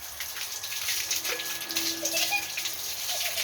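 Water is poured over a child at bath time, splashing and pattering steadily and close by, with a few small squeaks and voices faint in the background.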